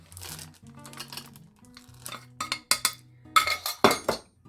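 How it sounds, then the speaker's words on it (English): Chocolate chips tumble into chocolate chip pie filling and a spoon stirs them in a bowl, giving a run of close, uneven clinks and scrapes that sharpen into louder knocks toward the end, with no talking. "And now in goes the chocolate chips."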